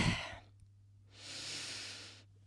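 A long, soft exhale during a stretching exercise, a broad airy breath swelling and fading over about a second, preceded by a shorter breath at the start, close and quiet over a faint steady hum.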